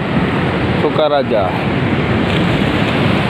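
Steady roar of ocean surf at Mandiri Beach on the south coast, loud and close with wind buffeting the microphone, while a voice speaks briefly over it.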